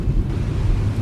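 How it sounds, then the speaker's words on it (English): Wind in the X-Plane 11 flight simulator around a Ryanair 737-800NG taxiing, a loud steady low rushing roar with no break. "There is the wind that you guys can hear."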